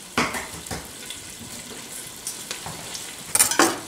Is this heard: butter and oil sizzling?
yes